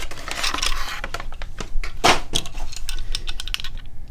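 Cellophane and cardboard of a blue Matchbox Western Star working-rig toy truck package being torn open by hand, a run of crinkly rips and crackles close to the mic with one sharp tear midway.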